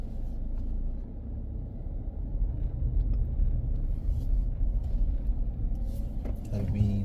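A car drives through the streets of Speightstown, Barbados, with a steady low engine and road rumble heard from inside the cabin and a few faint rattles near the end.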